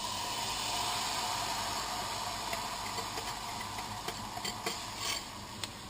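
Injera batter hitting a hot pan and being spread thin: a steady, broad sizzling hiss, close and even, with a few light scraping ticks near the end.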